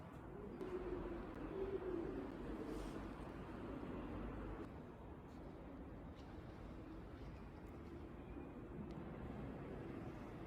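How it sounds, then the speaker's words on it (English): Pigeons cooing and fluttering in a nearly empty shopping mall with most shops closed, their calls soft and continuous over a steady, roomy hum of background noise. "and it's just pigeons"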